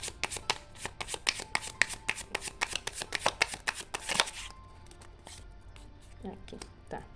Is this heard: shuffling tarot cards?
yes